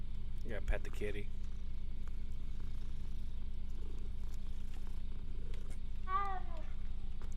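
A cat purrs in Hogwarts Legacy as it is petted, a soft steady purr running under game background sound, with a brief higher chirp or meow near the end.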